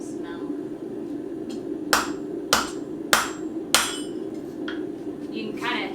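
Hammer blows on hot metal being forged, four sharp ringing strikes spaced about half a second apart over a steady low background hum, with a few lighter taps around them.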